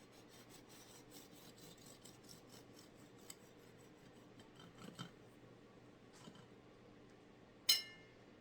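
A knife saws through a loaf of soft homemade sandwich bread, producing quiet repeated rasping strokes close by, with a couple of faint knocks and a sharp clack near the end.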